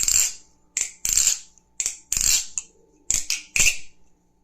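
Metal clacks from a balisong butterfly knife being flipped, sharp bright clicks in quick clusters with short gaps, close and clear with no talking.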